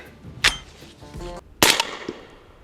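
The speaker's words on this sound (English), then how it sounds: "Subsonic 300 Blackout ammunition, suppressed, absolutely amazing." A suppressed .300 AAC Blackout AR rifle with a Rex Silentium MG7 suppressor fires subsonic rounds outdoors: two sharp, muffled cracks about a second apart, each with a brief metallic action clack and a short fading tail.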